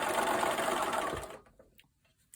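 A sewing machine runs in a steady, fast buzzing burst while stitching along a thread line on a Friendship Star quilt block, then stops abruptly, leaving a near-silent tail with small handling noises.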